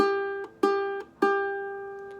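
A single ukulele G string is plucked three times, each note ringing out clearly and decaying before the next, in a quiet setting.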